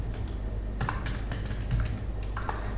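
Keys clack on a computer keyboard, several quick taps spread over a couple of seconds, close and fairly quiet, with the Enter key pressed.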